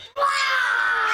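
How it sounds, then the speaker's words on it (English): A child screams in a room, one sharp sustained shriek rising abruptly after a brief quiet moment, loud and close. "Why are you screaming?"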